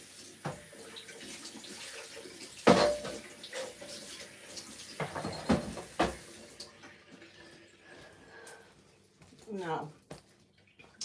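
Tap water runs steadily while washing up in a kitchen during Sunday cooking of white cabbage soup, a continuous rushing hiss that stops partway through, with someone talking over it.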